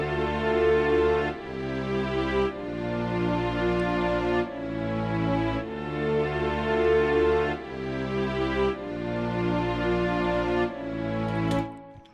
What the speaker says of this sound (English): I like to use these F strings from FL Studio.